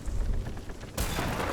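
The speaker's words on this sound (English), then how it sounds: "Ow! Lightning." A lightning strike in the pirate video game Sea of Thieves, a sudden sharp crack bursting into broad thunderous noise after a stretch of low rumbling ambience, loud and close.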